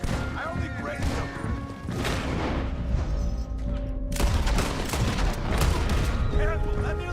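Gunfire in a Red Dead Redemption 2 battle, dense overlapping shots and booms filling the whole stretch without pause, loud and close, with voices shouting underneath.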